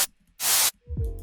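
Stereo white noise from an Ableton Operator synth with the lows cut: a brief hiss, then a louder, longer burst, followed by a low tonal synth swelling in at the end.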